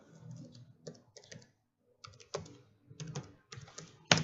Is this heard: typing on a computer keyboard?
yes